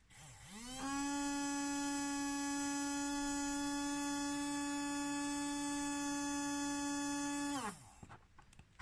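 A small DC motor fitted with a capacitor spins up to speed, holds a steady whining hum rich in harmonics for several seconds, then winds down and cuts off, loud and close.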